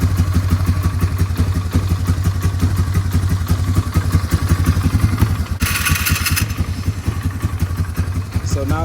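A Polaris Sportsman 500 ATV engine, revived after sitting six years, runs steadily at a loud, close, rhythmic idle with clattering pulses and a brief burst of hissing noise partway through.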